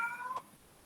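A single short cat meow, fairly faint, heard alone over a quiet background.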